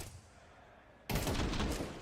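Rifle gunfire in a Counter-Strike match at a major tournament, starting abruptly halfway through as a loud, dense burst of overlapping shots that continues to the end after a quiet lead-in.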